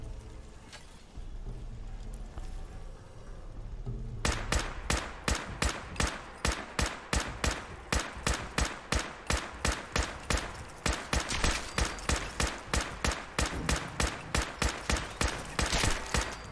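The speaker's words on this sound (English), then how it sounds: "Man, the fire rate on this weapon is freaking awesome." A weapon in the video game Fallout 4 fires in long, rapid automatic bursts, loud, sharp, evenly spaced shots that start after a quieter stretch of background hum.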